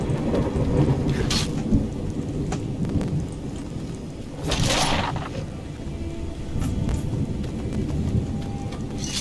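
Thunderstorm in Skyrim with the Scandinavian Weathers mod: steady rain hisses throughout while deep thunder rolls and cracks break in, a heavy rumble swelling near the middle, with no talking.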